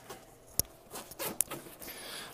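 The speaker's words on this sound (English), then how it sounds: "So if I open up the main pouch here" Zipper on the main pouch of a hiking backpack being pulled open, a ragged scratchy rasp with a few sharp clicks, close by and quiet.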